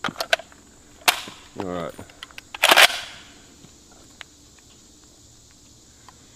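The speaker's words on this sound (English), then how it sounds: "let me shoot it now that I'm done blabbing about it" A SCAR 17S .308 rifle fires sharp, loud cracks outdoors, one early and a bigger blast a second or so later with a brief echoing tail, and a short spoken remark falls between them.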